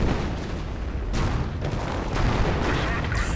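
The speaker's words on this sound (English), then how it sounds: "calling in artillery on the Sturmbannführer" An artillery barrage in the WW2 strategy game Company of Heroes, a dense continuous rumble of shelling and blasts with several sharper impacts, loud and close, in a one-versus-one match.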